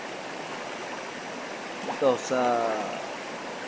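River water flows in a steady rushing wash, and someone speaks briefly over it partway through.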